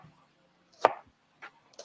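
A sharp kitchen knife chops and dices food on a cutting board, with a few crisp, separated cuts, close and alone.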